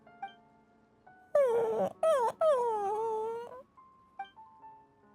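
A dog in the video game Genshin Impact gives a few drawn-out whimpering wails, one brief cry, then a longer falling moan, close and clear over quiet ambient game music.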